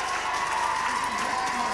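A football crowd in the stands at a 1993 match between Cuchulliann and Lacken applauds a substitute coming on, a steady patter of many hands clapping continuously at moderate distance.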